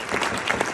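Audience at a comedy night clapping and cheering for the ICC team, a short burst of steady, fairly loud applause with no talking over it.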